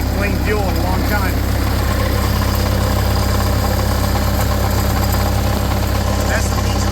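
An engine running at idle after being cranked on clean fuel, a loud steady low rumble throughout with a voice talking over it.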